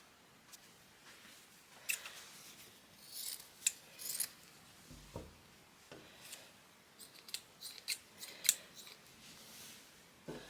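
Scissors snipping through scrap fabric left over from bunting, a slow series of crisp close cuts and rustles with pauses between, no speech.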